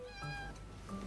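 A cat meows in the video game Love and Deepspace, one soft drawn-out meow near and alone over a faint steady background hum.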